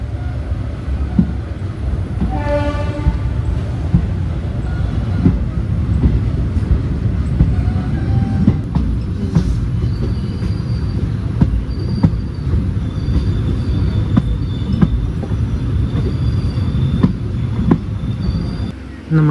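A passenger train running on rails through southern India, a loud continuous rumble of wheels with occasional squeals and clatter, close and steady throughout.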